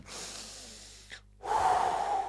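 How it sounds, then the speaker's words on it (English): Loud, close breaths into a microphone: a long exhale, a short pause, then a strong airy inhale or sigh. "That was me breathing, Julia."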